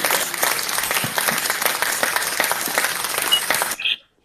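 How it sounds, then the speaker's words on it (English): Loud, dense applause from a crowd, steady clapping for several seconds before cutting off abruptly near the end. "just give me small clap"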